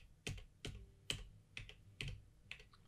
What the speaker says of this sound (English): I'm clicking down my down arrow in my keyboard